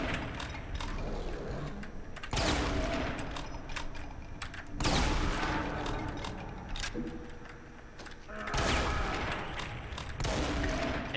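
Super shotgun blasts in Brutal Doom 64 on PC, three loud, booming discharges roughly two to three seconds apart, each followed by a decaying rumble over continuous gory game noise.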